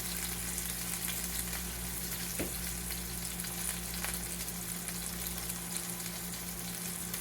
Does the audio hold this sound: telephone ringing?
no